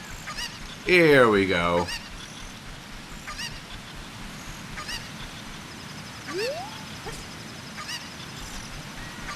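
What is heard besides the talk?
chicken (cucco) in video game Zelda: Ocarina of Time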